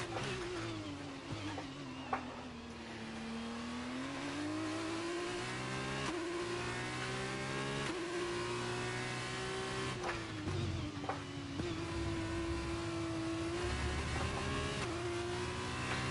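A Formula 2 car in F1 23 laps the Catalunya circuit. Its engine whines loudly and continuously, and the pitch falls and rises as it repeatedly downshifts and accelerates again.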